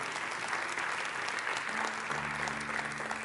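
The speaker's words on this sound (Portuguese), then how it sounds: "Aplauda Ele por essa palavra" A church congregation applauds together at a conference service, steady sustained clapping from many hands filling the room, with a low organ or keyboard tone entering partway through.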